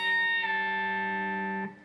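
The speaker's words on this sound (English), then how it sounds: "So it's known as a pre-bend. It will sound like this." Electric guitar pre-bend on the high E string from a guitar lesson: one picked note rings out sustained and slightly distorted, its pitch easing downward before it cuts off; a single close, solo note.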